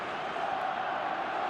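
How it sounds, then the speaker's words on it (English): Dense, steady roar of a stadium crowd cheering after a goal in the eFootball video game, loud and sustained throughout with no break. "the crowd level has gone up a notch or 10"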